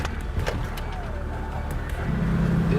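A car grinds steadily along a rough off-road track, its engine a constant low drone with scattered knocks and rattles from the terrain, close and continuous throughout.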